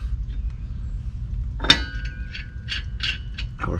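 A wheel spacer is fitted onto a Jeep JL hub stud: a sharp metallic clink, then a run of light ratcheting clicks as the part is threaded on, close and fairly quiet.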